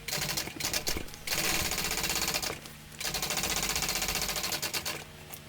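Sewing machine top stitching a tote bag, a rapid mechanical chatter in long bursts separated by short pauses, loud and close with no talking.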